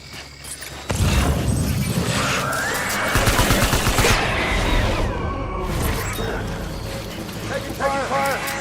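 Gunfire in the Death Stranding video game, a loud dense burst of rapid shots and impacts after a short lull, with mechanical clatter, a whoosh and a voice speaking over the action.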